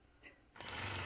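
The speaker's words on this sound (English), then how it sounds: "So I'll continue on stitching those curved lines, 2 of the scallops across the top of the block" A sewing machine starts up and runs steadily, stitching curved sashing lines and scallops across a quilt block, close and fairly quiet after a brief soft noise.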